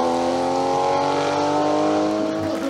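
A Porsche 911 SC race car in the historic Group 4 production class climbs a mountain hill course, its flat-six engine holding a loud, steady high-revving drone close by.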